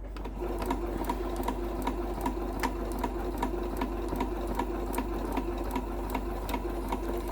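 A sewing machine running steadily to back stitch a large bag, its needle ticking in an even fast rhythm over a constant motor hum, close and fairly quiet with no talking.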